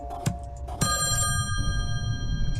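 Telephone ringing in the horror puzzle video game Slayaway Camp: a bright electronic ring that starts at about 0.8 seconds and sustains with steady harmonic tones, over a low background hum and a couple of earlier clicks.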